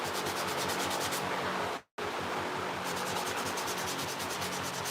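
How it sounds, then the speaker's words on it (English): Sandpaper rubs back and forth on a handmade wallet in fast rhythmic strokes, close and steady, with a brief pause partway before the scratchy sanding resumes. "I'm going to sand a little bit of this."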